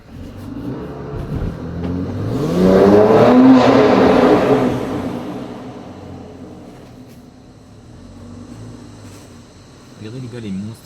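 A car engine revs and swells as the vehicle pulls away, rising to a loud whining peak and then fading, with a smaller rev near the end.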